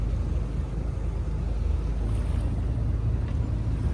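Steady low rumble of a boat engine with wind buffeting the microphone and faint water noise during a ride around a hill-ringed island, continuous and fairly loud with no talking.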